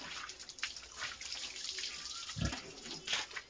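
Water from a bucket is poured and splashed over pigs on a farm, a soft close gush and trickle with a few brief splashy bursts, fairly quiet overall.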